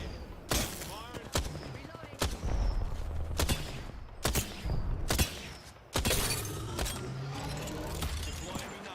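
Sharp, repeated gunshots ring out in a multiplayer shooter, about a dozen spaced bursts over several seconds with mechanical clicks and reload clatter between them, loud and close with a faint game voice underneath.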